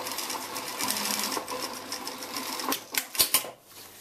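A sewing machine runs continuously, stitching a seam up a button placket with a fast, even mechanical whir, close and alone, ending in a few sharper clacks as it stops.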